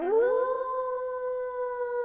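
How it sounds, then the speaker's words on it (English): A single long canine howl, like a coyote or wolf, starts with a rising yelp and settles into a steady, mournful tone held for about two seconds, clear and unaccompanied. "A coyote? A wolf?"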